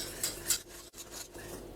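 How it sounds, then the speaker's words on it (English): A utensil scrapes and clinks against a bowl while beating a warm Jell-O cake mixture smooth, a few quick strokes with soft clatter, close and moderately quiet. "And beat it a little smooth."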